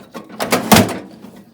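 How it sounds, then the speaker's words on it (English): Metal drawer pulled from a vintage Craftsman three-drawer tool box, a short series of scraping slides and knocks rising to one louder clunk, then fading, close and alone. "to continue working on the drawers, I need to remove them"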